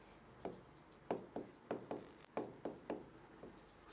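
Chalk or marker writing on a classroom board, a string of short scratchy strokes in an irregular rhythm, fairly quiet, with no talk.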